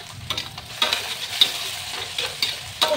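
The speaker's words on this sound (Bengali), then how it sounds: "নাড়া দিচ্ছি।" Food being stirred in a frying pan, the spoon scraping in repeated irregular strokes over a soft steady sizzle, close and moderately loud with no talking.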